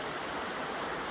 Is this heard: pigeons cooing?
no